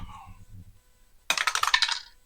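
Green dice tossed onto a table during a Tecmo Bowl game, a short burst of clattering rattles and bounces up close after a brief lull, with a few murmured voices at the start.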